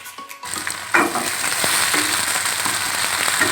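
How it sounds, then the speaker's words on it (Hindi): Green chillies and vegetables sauté in a hot pan with oil, giving a steady close sizzle and crackle, with a few scrapes and stirring clatters partway through. "तो थोड़ा भूनेंगे। सब्ज़ मिर्चें ऐड करेंगे।"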